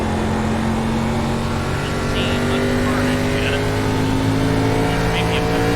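An ARCA stock car engine at Phoenix oval in iRacing roars at a steady, loud pitch that climbs gradually, with faint tire chirps and a voice talking over it.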